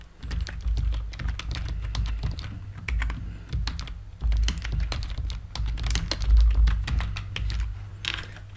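Rapid clatter of computer keyboard typing, close and steady across the whole stretch, with brief pauses between bursts of keystrokes and no talking.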